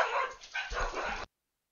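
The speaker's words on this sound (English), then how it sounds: "My dogs are also barking" Dogs bark at home, a muffled run of barking heard indoors at moderate volume that cuts off abruptly partway through.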